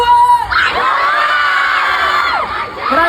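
Fans at a concert in Cebu erupt into loud, continuous shouting and cheers that rise sharply after a brief lull and hold steady, with scattered whoops over the roar.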